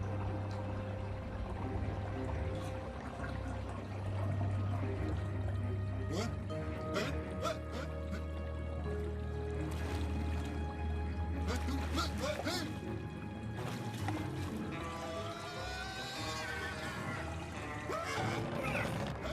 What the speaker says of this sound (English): Just a drain effect when the water like twirls around down like that into the.